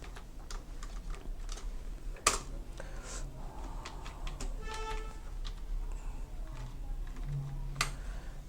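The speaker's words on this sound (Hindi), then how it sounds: "सबसे पहले हम अपने पेज पे कुछ कंटेंट टाइप करेंगे" Typing on a computer keyboard while entering text into an MS Word page: a steady run of light key clicks with a few sharper, louder strikes, close and alone with no talking.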